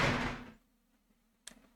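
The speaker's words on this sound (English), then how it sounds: "Chromatic door." A red chromatic door in the video game Virtue's Last Reward opens with a sharp mechanical burst and a short, buzzy ringing tail, following a fading stretch of loud noise and a quiet gap.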